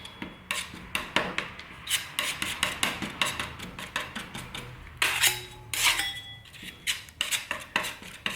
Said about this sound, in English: Mix that up until the color's nice and consistent all the way through